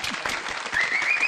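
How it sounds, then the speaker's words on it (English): An audience claps at a broadcasters association hall of fame gala, a dense, steady round of applause with a whistle rising over it in the second half. "Another round of applause."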